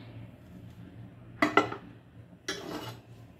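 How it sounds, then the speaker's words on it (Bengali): A metal tawa griddle pan is lifted off the stove with a couple of quick clanks of metal on metal. A second clatter follows moments later, all close by against a quiet kitchen background. "আমি এটা নামিয়ে নিচ্ছি তাওয়াটা।"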